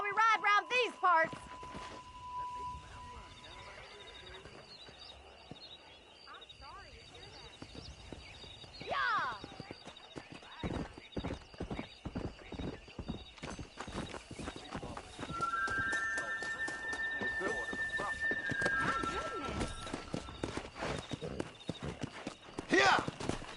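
Horse hooves clip-clop along in Red Dead Redemption, with a neigh or whinny partway through. Steady hoofbeats quicken toward a gallop as voices talk over them.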